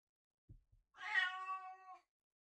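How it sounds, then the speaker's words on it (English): A house cat lets out a single drawn-out meow, quiet and clear, after a couple of soft thumps in an otherwise silent room. "It is my cat."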